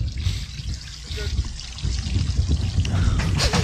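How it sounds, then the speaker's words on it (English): Water streams steadily out of a boat engine as a continuous trickling, splashing flow that sits close and moderately loud, while muffled voices murmur in the background. "The water's just continuously coming out."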